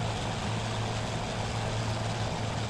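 A Curtiss P-40F Warhawk's World War II propeller engine drones in a flight simulator, flying low over a river: a steady, loud, unbroken hum with a strong low throb and no voices.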